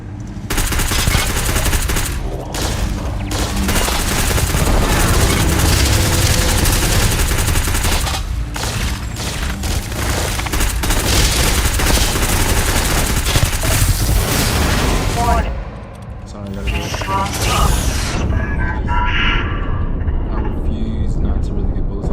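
Gunfire from the video game Starfield, loud sustained bursts of rapid shots and booms rolling on for about fifteen seconds, then a brief lull before scattered final shots, with a voice talking over it.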